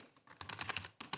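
Rapid keystrokes on a computer keyboard as a command is entered in a terminal, a short quick burst of close, crisp clicks with a brief pause before a final couple of taps.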